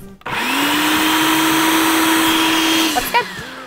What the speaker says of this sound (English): we'll just blend it until most of the onion is nice and really minced up small